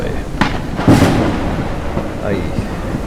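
Thunder from lightning strikes crashes close by in the video game Forever Skies, a sharp loud crack followed by a broad rumbling roll that fades over a few seconds, with faint voice-like sounds in the background.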